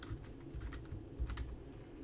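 Keys clatter in a quick, uneven run of typing on a computer keyboard while someone codes a React front end, with soft close taps and a slightly heavier cluster near the middle.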